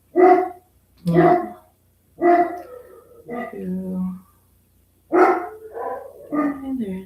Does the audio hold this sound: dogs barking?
yes